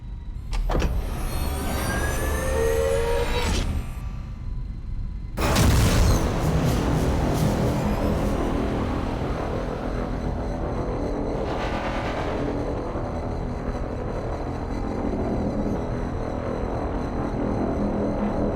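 A spaceship in the space combat game Rebel Galaxy accelerates to sublight speed, a loud sustained engine roar and whoosh that surges sharply midway and then holds steady as a dense rumbling drone.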